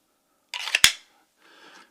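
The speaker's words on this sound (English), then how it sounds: "as you hear that snap, when the retention on these Kydex sheaths are very good" A sharp plastic click as a QSP Canary fixed-blade knife snaps into its Kydex sheath, preceded by a brief sliding scrape and followed by a faint rustle, close and isolated with no talking.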